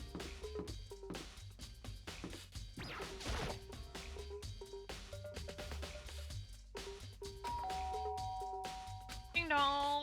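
A doorbell in the video game Danganronpa rings as a clear two-tone chime near the end, after a run of rhythmic game music with thuds and hits. A faint voice is audible.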